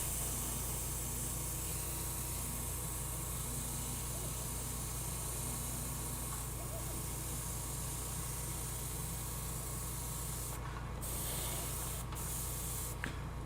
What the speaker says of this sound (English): glaze around the primer, you know, just spray around